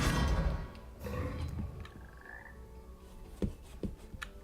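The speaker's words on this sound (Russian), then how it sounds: "Жаба." Toad croaking in the Hogwarts Legacy video game, a few rough croaks rising out of ambient game sound, fairly close, with faint clicks and effects around them.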